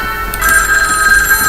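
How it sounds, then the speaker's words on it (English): Telephone ringing in a classroom in the video game Tokyo Babel, a steady electronic ring that swells louder after a brief moment and keeps sounding continuously, clear and prominent with no talk over it. "This is a classroom, so why would I be hearing a ringing sound in here?"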